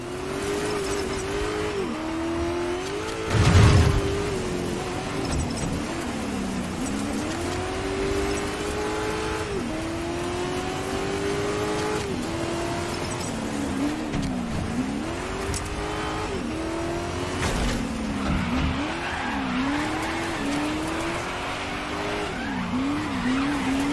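Rally cars racing on dirt in Dirt 5, engines wailing and rising and falling through gear changes while tires skid and squeal, with a loud thump early on, a busy continuous mix throughout.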